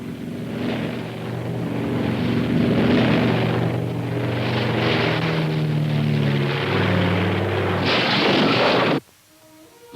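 A 1920s barnstorming stunt plane flies overhead, its propeller engine droning loud and steady for about nine seconds with shifting pitch, then cutting off abruptly.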